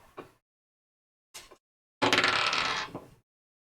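Dice clatter and roll across a table during a tabletop role-playing game, with two brief clicks followed by a longer rattling tumble that settles, heard close and clear with no talking.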